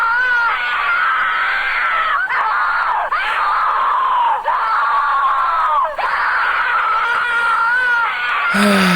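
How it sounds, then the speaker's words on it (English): A long, loud, sustained distorted scream from a Mickey Mouse creepypasta, continuous and harsh for several seconds with brief breaks, cutting off abruptly at the end. "The scream's coming."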